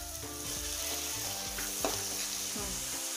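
Onion and tomato sautéing in a pan for puri bhaji: a steady, close sizzle of frying with repeated scraping and stirring strokes over it, with no voices.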